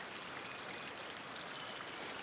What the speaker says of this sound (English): So that's our creek